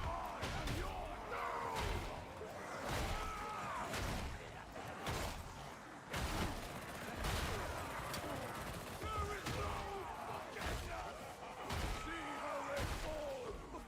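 Heavy gunfire and booming blasts repeat in bursts of rapid shots and thuds from a chaotic firefight in the video game Darktide, with shouting voices mixed through the din.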